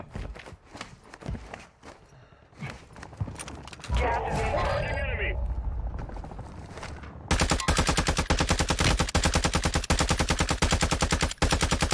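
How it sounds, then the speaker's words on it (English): Gunfire in the shooter Warzone 2, including a sniper rifle shot, with scattered single shots and mechanical clatter, then a sustained burst of rapid automatic fire, loud and close under voices. "That's a sniper."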